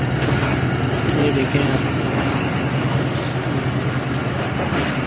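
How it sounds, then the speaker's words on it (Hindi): Passenger train on the Rawalpindi to Karachi route pulling slowly out of the platform, a steady close rumble of wheels and carriage noise throughout, with someone talking over it. "अभी हम प्लेटफार्म से निकल रहे हैं आहिस्ता आहिस्ता"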